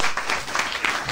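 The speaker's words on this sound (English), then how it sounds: "Thank you for the applause." Indoor applause in a home setting, several people clapping steadily and fairly close for a brief burst.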